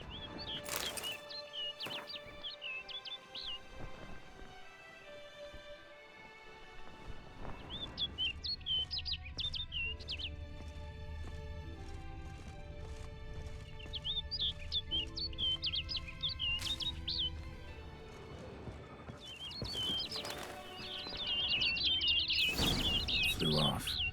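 Birds chirp and tweet in bright, repeated bursts over a soft ambient bed in The Witcher 3, moving between near and far across a long stretch, with a voice speaking briefly at moments.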